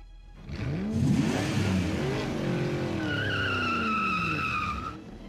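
The Batmobile, a colossal souped-up, battered dump-truck-like vehicle, revs its engine loudly with rising and falling whines and a high tire-squeal screech. It sounds close and sustained, with no talking.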